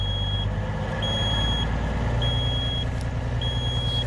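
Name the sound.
reversing beeps of a truck backing up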